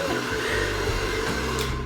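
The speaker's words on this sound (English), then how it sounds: "Normally we see people just taking a blow dryer and doing this" Hair dryer blowing on a woman's hair during anti-frizz styling, a steady whooshing hum of airflow with no pauses and no talking.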